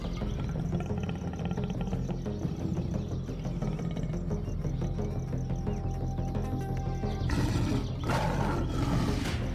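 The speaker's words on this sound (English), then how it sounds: "his roar is not just a sound, it is a declaration of survival" A big predator lets out a deep, rumbling roar that carries over a dense bed of music and ambient sound, sustained and loud throughout.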